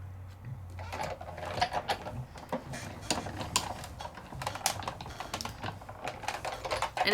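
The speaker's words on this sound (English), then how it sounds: "And if I want, I can even rotate at the end, and that just lets the roller hit the die in a new and unique way" Manual die-cutting machine rolling pearly shimmer paper through a die, giving a steady run of close, dense clicking and crunching with irregular sharp ticks throughout.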